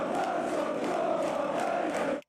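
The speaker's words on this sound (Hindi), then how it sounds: "ये नारा जिसमें कहा गया कि मनोर सोलोमन फिलिस्तीन से नफरत करते हैं" Dense football crowd chanting about Israeli player Manor Solomon, a loud sustained mass of voices singing together for a couple of seconds before cutting off abruptly.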